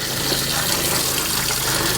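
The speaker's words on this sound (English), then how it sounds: "We'll turn the tap on and just purge the air out of the line." A caravan tap runs with full force while the water pump purges air from the line, making a steady, loud gushing hiss with slight sputtering.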